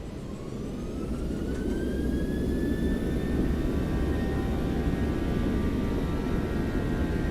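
Boeing 737-800 jet engines in X-Plane 12 build to takeoff thrust as a loud, continuous, close roar, with a whine that climbs steadily in pitch through the rolling takeoff and no voices.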